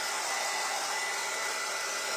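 A hair dryer runs steadily at close range, a dense constant whoosh of air with a motor hum that stays loud and unchanging throughout, with no voices.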